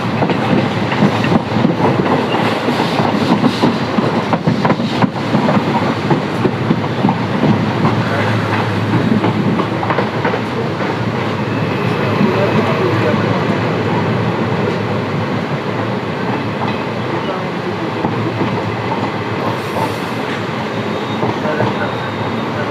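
Passenger train running on rails between Prayagraj and Lucknow, heard from inside as a loud, steady rumble with rhythmic clickety-clack of wheels over rail joints throughout.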